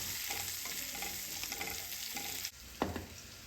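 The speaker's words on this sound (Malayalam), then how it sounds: "അപ്പോൾ നമുക്ക് സവാള ചേർത്ത് കൊടുത്തിട്ട് നന്നായി വഴറ്റിയെടുക്കണം." Chopped onions for egg curry sauté in a pan with a steady, fairly quiet sizzle, broken by soft spoon taps and a couple of stirring scrapes.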